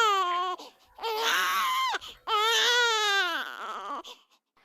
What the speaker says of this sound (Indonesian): Kok ada suara bayi?